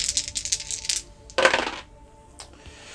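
Small dice clatter and rattle briefly on a tabletop during a Harry Potter Miniature Adventure Game, a quick burst of clicks, then one sharper tumble and a final faint tap.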